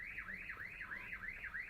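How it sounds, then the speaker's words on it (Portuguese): An electronic alarm wails on its own, its tone sweeping up and down in a steady, repeating siren cycle at moderate distance, with no voices and a low hum underneath. "disparou um alarme aqui"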